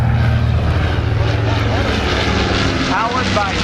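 A World War II bomber with two propeller engines drones overhead at an air show, a loud, steady rumbling roar that fills the whole moment while a voice talks over it.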